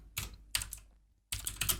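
Quiet, close typing on a computer keyboard, in three short bursts of rapid key clicks separated by brief pauses, with no voices.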